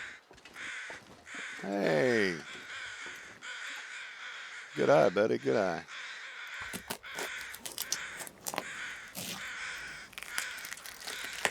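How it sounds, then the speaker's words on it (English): Crows caw in the wilderness survival game The Long Dark on Timberwolf Mountain, harsh calls rising in two bursts of rapid repeated caws over wind noise while someone talks quietly. "He's seen the crows before I did."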